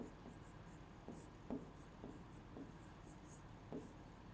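Chalk or marker writing on a board during a Class 10 maths lesson, a series of faint scratchy strokes and taps in an uneven rhythm, quiet and close, with no speech over them.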